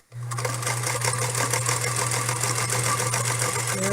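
A sewing machine back-tacks a dart, its motor running in a continuous close, steady hum with a rapid needle chatter for several seconds.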